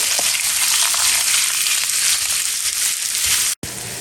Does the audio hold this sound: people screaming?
no